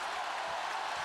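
A basketball arena crowd at a college game, on its feet and roaring to urge a run, a steady loud wash of cheering throughout.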